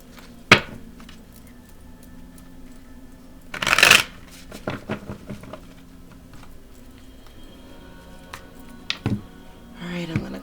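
Tarot cards shuffled and cut by hand, giving a few brisk riffling bursts and soft taps between quiet pauses, close and clear with no talk over them.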